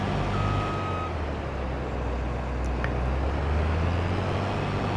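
In Farming Simulator 22, a farm vehicle drives and reverses with a deep, steady engine rumble filling the whole stretch, while a faint intermittent reversing beep sounds over it and no one speaks.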